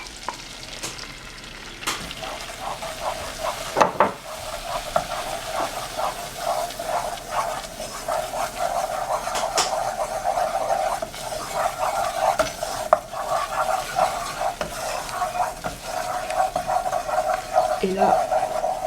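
Flour being stirred into a pan while making lasagne, a steady rasping scrape with a soft sizzle underneath, continuous at moderate level through most of the stretch.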